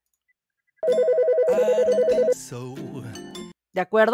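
Telephone ringtone sound effect: a loud, fast warbling electronic ring that pulses steadily for about a second and a half over music, then gives way to a voice speaking.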